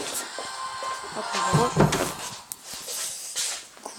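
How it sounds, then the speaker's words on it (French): A door shut indoors, a dull thump with a short rattle of the latch, close by, amid light room noise and a bit of talking. "Je vais fermer la porte."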